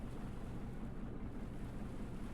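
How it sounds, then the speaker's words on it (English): A vehicle engine runs steadily in the game Stormworks, a low, constant rumbling drone mixed with wind-like noise, continuous and unvarying with no voices over it. "The engine's running."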